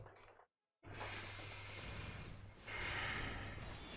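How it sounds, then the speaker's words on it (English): Deep, noisy breaths come close to the mic. A long breath is cut by a short silent gap, then two more drawn-out airy breaths follow with no talking. "Deep breathing, you guys."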